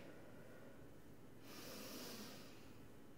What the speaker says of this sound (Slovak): prejdeme si hlboký nádych